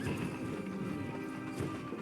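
Horse hooves clip-clop with a whinny in the fantasy game Albion Online, the master's horse standing in a pasture, heard as a steady dense layer of game sound throughout.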